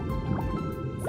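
A churning, gurgling liquid sound of a stomach mixing and digesting food, with soft drips and squishy bubbling that continue steadily throughout.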